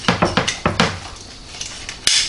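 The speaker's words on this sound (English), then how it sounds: "just going to cut right into this side of the breast meat" A knife carves into the breast of a whole roast turkey cooked from frozen in a NuWave oven, giving a quick run of close, sharp clicks and scrapes, then a pause and a final clatter, with no talking.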